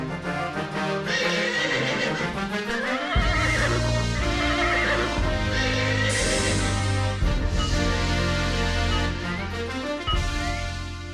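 A horse neighs loudly over dramatic orchestral music in a Hindi animated Vikram Betal story scene, the whinny rising and fading across several seconds with no speech.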